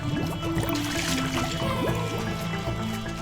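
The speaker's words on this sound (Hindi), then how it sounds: "ये तो बुलबुले उत्पन्न हो रहे हैं जल में" Water splashes and bubbles steadily and continuously in a bathing scene, close and moderately loud, with a layer of tonal music running underneath throughout.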